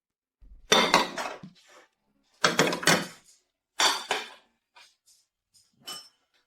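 Dishes, pots and pans clatter and clink in a few separate bursts of dishwashing at home, loud and close with short pauses between, ending in a smaller clink.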